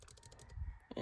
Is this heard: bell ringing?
no